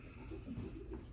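A racing pigeon cooing softly in a loft, a low, short murmuring coo heard faintly and close in a quiet space.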